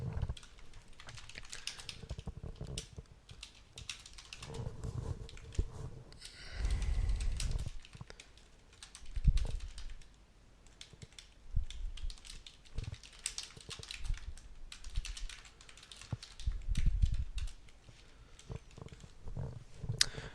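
Computer keyboard typing while jotting poker hand notes, a steady run of soft clicks and key bursts at close range with no one talking.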